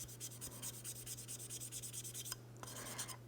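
A cleaning block rubbed back and forth across sticky, gummed-up pruner blades gives a close, steady scratchy rasp in quick repeated strokes, pausing briefly near the end before resuming, over a low constant hum.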